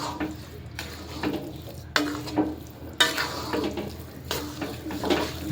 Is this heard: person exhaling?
no